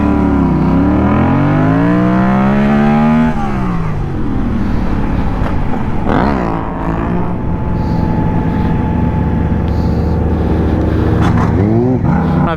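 Yamaha FZ-07 motorcycle engine revving hard then falling back as the rider pulls a stoppie, followed by a steady, loud running drone with a few quick throttle blips, close to the microphone.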